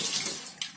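Water runs steadily from a tap into pots being filled for chicken stock, a close, continuous hissing gush with a slight splash change near the end.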